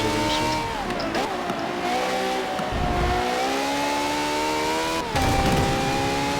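A Ferrari engine revs with a throaty, sustained growl, pitch rising and sliding as it pulls, loud and close, with a sharp burst of throttle near the end and a faint voice in the background.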